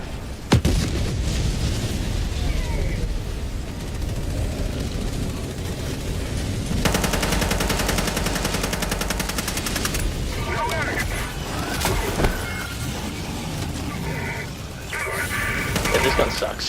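Dense, loud gunfire and explosions from the video game Helldivers 2 fill the scene, rapid bursts of shots over heavy booms, sustained throughout with a sharp crack near the start.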